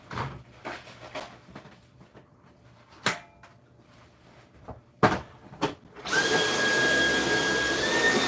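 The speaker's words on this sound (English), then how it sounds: "I'm going to vacuum in case there's a little flour fallout" Scattered knocks and clatter as a vacuum cleaner is handled in a bedroom, then it switches on at about six seconds into a loud, steady whining roar that continues to the end.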